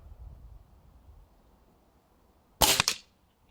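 A single sharp crack from an Air Arms TX200 air rifle firing .177 pellets, with a short snappy report after quiet room tone.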